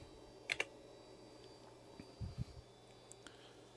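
Several key presses on an Amiga 2000 keyboard during F-19 flight sim play, a quick pair of clicks early then a few softer taps later, close and quiet over a low steady hum with no talking.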